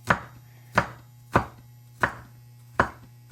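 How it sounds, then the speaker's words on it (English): Knife slicing garlic on a cutting board, five crisp, evenly spaced chops close up over a low background hum. "Then you slice your garlic."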